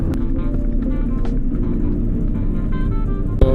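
A 1992 Honda Civic EG hatchback idles in a queue at Balagtas, a steady low engine hum filling the cabin, with a faint sharp knock near the end.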